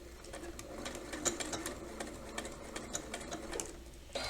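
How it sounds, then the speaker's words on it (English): A sewing machine stitches fabric and bias tape in a steady, rapid mechanical patter with light ticking, close but fairly quiet, running continuously without talk. "you're going to line these up and you're going to sew along that length"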